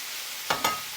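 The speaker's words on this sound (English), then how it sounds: "I'm going to add this into the pan now and crisp that up with the sausages" Vegan bacon and vegan sausages fry in a pan with a constant soft sizzle, broken by two quick, louder hissing bursts and a stirring scrape near the end.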